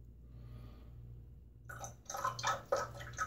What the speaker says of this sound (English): I'm gonna get my face wet and we'll start loading up this soap